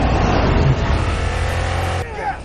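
A Toyota Tundra full-size truck with a beefed-up engine roars loudly and steadily up close, a dense rev that holds before dropping off sharply near the end.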